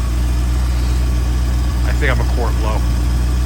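A 1984 C4 Corvette sitting at a steady idle, a loud, constant low engine drone that stays even throughout, heard close, with someone speaking briefly over it near the end.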